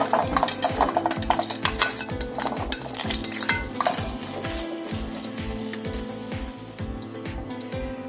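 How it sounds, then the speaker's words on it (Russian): Onions and carrots fry in a pan with steady sizzling, and a spatula clatters and scrapes against the metal in a busy rhythm throughout, close up with no talking. "Пока наш лук с морковкой обжариваются"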